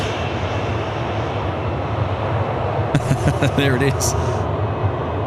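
A Qantas airliner touches down on runway 34 left at Sydney Airport at night, its broad engine roar steady and fairly loud, with a brief voice speaking over it midway.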